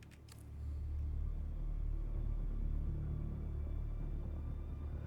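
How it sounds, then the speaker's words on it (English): Dark, storm-like ambient score from the video game Dune Awakening, a deep low rumble swelling in after a brief quiet start and holding steady and loud throughout, with no voices over it. "That is storm music, though"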